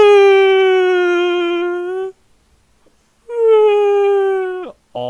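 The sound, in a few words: voice imitating a woman crying like a whale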